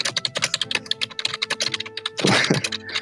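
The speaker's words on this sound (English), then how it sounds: "A plane with many typewriters." A burst of rapid, uneven mechanical key strikes from typewriters, clattering close and crisp for a few seconds. A denser, rougher rattle closes the run.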